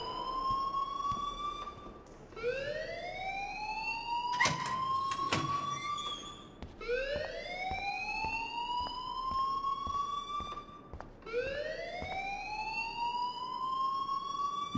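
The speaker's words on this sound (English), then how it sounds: "please turn off that alarm since that's your job" A fire alarm rings inside the video game Life is Strange: a loud wailing tone that sweeps upward, repeating about every four seconds, with a short sharp burst between cycles.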